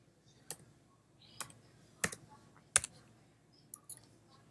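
Numbers are typed on a computer keyboard as sparse, crisp individual keystrokes, about six or seven clicks spaced irregularly over a quiet room background, close and alone.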